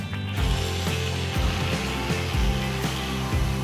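An Oral-B electric toothbrush, a budget model, runs with a steady close buzzing drone that pulses in repeated surges through the whole stretch, with no voices.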